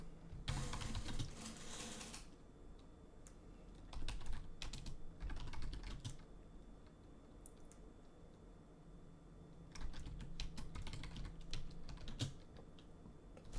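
Bursts of typing on a computer keyboard, quick clusters of soft key clicks with pauses between them, fairly close and alone without talk.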